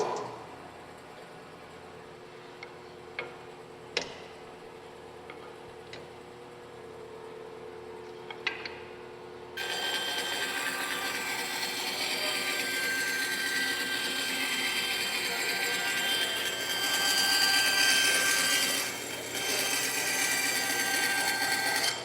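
Woodworking shop machine switched on with its middle button, a few clicks and taps during a quiet stretch, then a loud steady motor whine and hum that runs on without stopping.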